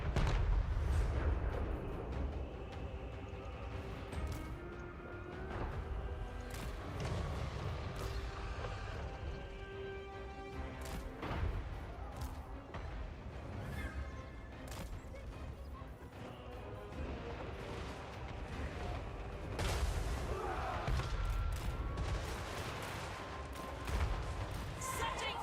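Artillery fire in the fantasy battle game Total War: Warhammer 3, a run of sharp crashing impacts and mechanical clatter scattered through a busy battle soundscape, moderately loud.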